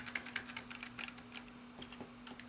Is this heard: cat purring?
no